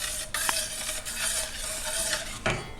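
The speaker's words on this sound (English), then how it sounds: "Just stir it around a little bit." A utensil stirs cooked pork chops in jalapeno onion gravy in a pan, with a few light clinks and scrapes against the pan over a soft, steady sizzle.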